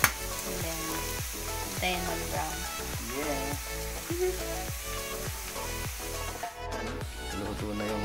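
Garlic frying in a pan while cooked until crispy and brown for an indoor meal, a steady close sizzle with repeated stirring scrapes throughout, busy and fairly loud, no talking over it.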